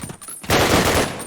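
Burst of rapid automatic gunfire in Call of Duty during a competitive match, starting abruptly and holding loud and dense for most of a second.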